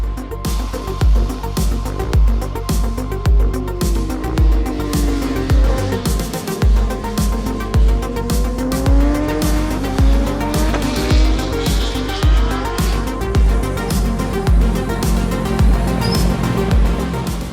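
Motorcycle on Öhlins suspension lapping a race track, its engine revving loudly and continuously through rising and falling gear sweeps, close and dominant throughout.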